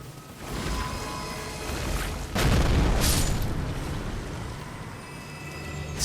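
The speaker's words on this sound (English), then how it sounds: "So they only seem to explode if it looks like they're going to catch you in their AoE." Enemies blowing up in the action RPG Elden Ring: Shadow of the Erdtree. A low ambient hum breaks into a sudden heavy boom with a crackling burst, then a sharper secondary blast. A rumbling tail fades back into the background, with no voices.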